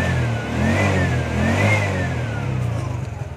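A TVS King three-wheeler's engine revs close by as the accelerator is worked, with its pitch rising and falling in a couple of swells before it settles into a pulsing, uneven idle.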